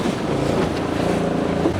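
Motorboat crossing open water toward a floating village, its engine drone and wind buffeting mixed into a steady, loud roar with no letup.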